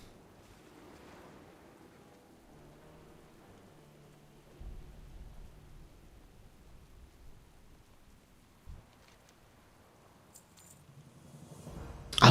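Thunderstorm in the World of Warcraft game, with a steady wash of rain and several low rumbles of thunder, including a louder rolling crack near the end, played with no talk.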